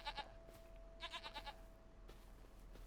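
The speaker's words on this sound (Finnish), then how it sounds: "Sitten täällä on sitten taas vuohia." Goats bleating in the farming video game Farming Simulator 25, several short quavering bleats in two quick bursts followed by a fainter call, over a steady low hum.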